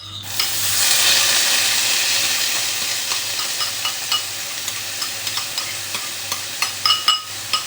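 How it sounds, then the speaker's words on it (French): Split peas pour into hot spiced oil for a vegetable biryani, setting off a loud, close sizzle that settles into steady frying crackle with scattered pops and light stirring clicks. "Donc je vais verser mes pois cassés."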